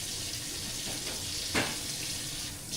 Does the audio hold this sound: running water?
yes